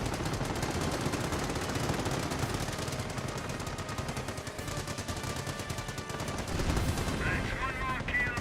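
Machine gun fire in the World War II strategy game Company of Heroes 1, dense rapid bursts rattling continuously amid other battle noise, fairly quiet overall, with faint voices briefly audible.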